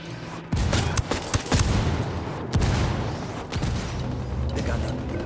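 Rapid bursts of automatic gunfire and scattered shots in a firefight between rebels and cartel in Ghost Recon Wildlands, loud and near, with sharp cracks over a steady rumble of battle.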